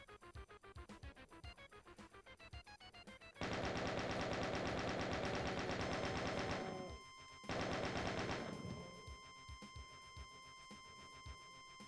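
Enemy gunfire in the video game Doom, a fast run of rapid shots followed by two long bursts of dense, loud automatic fire with a short gap between them, over steady game sounds and no talking.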